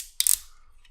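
A plastic ratchet joint on a MakeToys Cross Dimension Buster Stealthwing toy figure gives a short run of four or five quick, crisp clicks close by, with no voice.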